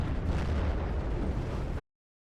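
Bombs from a Ju-88 bomber bursting in a World War II strategy game, a dense, loud rumbling blast that roars for under two seconds and then cuts off abruptly to silence.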